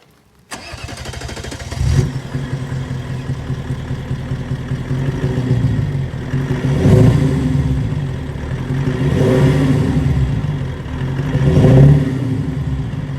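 A Mercedes E400 W211 limousine engine cranks and catches, then settles into a steady idle before three deep, swelling revs in a row, loud and close, with no voices.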